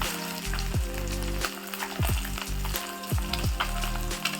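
Pieces of pabda fish fry in hot oil with a steady close sizzle, broken by several brief clattering stirs or turns of the fish in the pan, with no talking.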